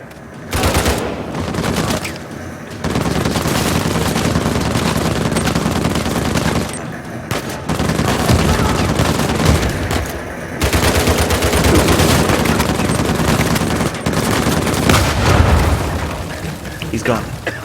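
Sustained bursts of automatic gunfire in the Uncharted 4 video game, loud and dense, rattle almost continuously with brief gaps, mixed with booms and game effects while a voice talks at times.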